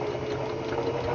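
Steady whirring hum of a sewing machine running continuously as it stitches fabric for a heating pad front panel, close and even with no pauses.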